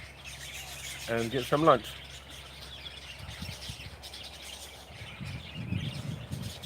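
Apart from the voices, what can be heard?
birds chirping outside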